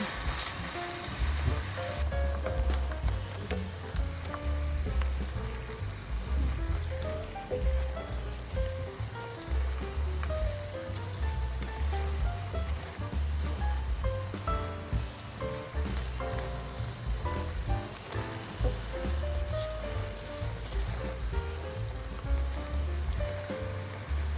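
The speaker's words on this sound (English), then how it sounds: "Gently shake the pan or use a spatula to move the tofu so the sauce coats every piece evenly." Tofu frying in a thickening sauce in a pan, a dense, continuous sizzle and bubbling crackle close up, with faint soft scraping as the pieces are moved around, steady throughout.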